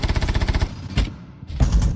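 Gunfire in the video game Rainbow Six Siege: a rapid, evenly spaced automatic burst up front, then a single sharp shot and another short burst after a brief gap, loud and close.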